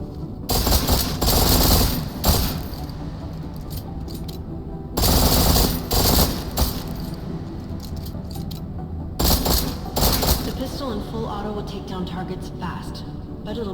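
Gunfire in the video game Deus Ex: Mankind Divided, loud rapid automatic bursts at intervals, separated by quieter stretches where a voice talks.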